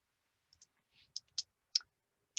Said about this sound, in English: So I am going to type that in.